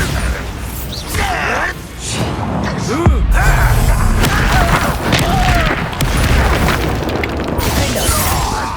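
Bombarda spell explosions and battle clatter in the video game Hogwarts Legacy, loud booms and crashes over a busy mechanical rumble, with voices calling out at moments.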